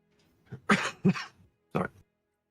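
A person coughs three times in short, separate bursts, the first two close together and the third after a brief pause, sounding close and fairly loud with nothing else in the background.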